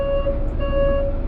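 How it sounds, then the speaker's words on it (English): A truck's reversing alarm sounds loudly up close, two steady high electronic beeps separated by a short gap, with a faint rumble underneath. "I'm gonna download a truck backing up sound effect."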